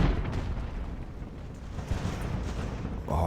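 Naval cannons from the video game Ultimate Admiral: Age of Sail fire in a sea battle, creating a dense, continuous rumble of heavy booms and blasts that stays loud throughout.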